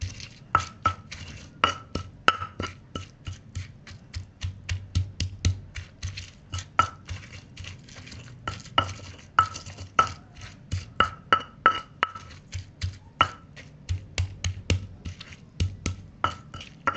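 Sugar and shallots are pounded coarsely in a stone mortar with steady, close thuds, about two per second, repeated without a break.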